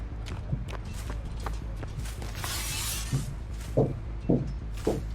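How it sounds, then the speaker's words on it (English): Footsteps of someone walking around on the floor upstairs, a muffled series of soft thuds and knocks heard from a distance, irregular and faint against a quiet background. "Somebody's walking around upstairs"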